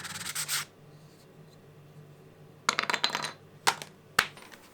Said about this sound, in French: Et vient ensuite la pénible étape de tout poncer.